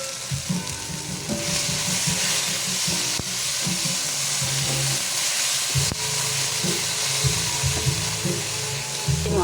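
Dried shrimp sizzles and fries steadily in a hot pan for a home-cooked binagoongan monggo, with a continuous hiss and occasional stirring scrapes throughout.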